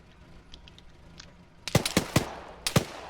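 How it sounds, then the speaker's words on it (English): Gunfire in the Arma 3 combat game: four sharp, loud shots, the first three in quick succession and one more after a short pause, following a quieter stretch with faint distant sounds. "Taking shots."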